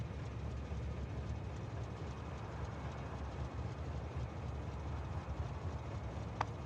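A stone train in a factory-building video game rumbles along in a steady, low, continuous drone with faint clatter. One brief high blip near the end.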